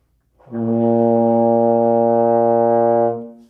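A single sustained low baritone horn note, B flat played with no valves pressed, held steady for about two and a half seconds, rich in harmonics, then fading out.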